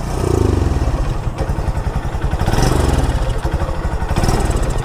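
A small engine running on gin instead of gasoline revs in loud, uneven bursts, sputtering and pulsing as if about to stall, close by with no talk.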